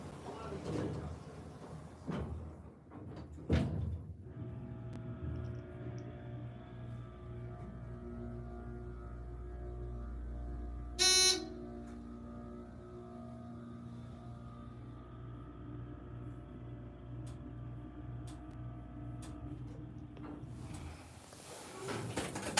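An old elevator motor hums steadily while its doors slide and clatter at the start and end, with a short sharp mechanical rattle in the middle and a person talking briefly.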